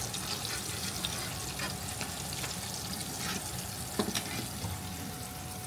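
Food sizzling steadily in a hot pan, with a continuous crackling hiss and occasional sharper pops from oil, plus faint clatter of cookware in a kitchen.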